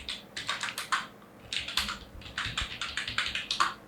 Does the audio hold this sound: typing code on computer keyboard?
yes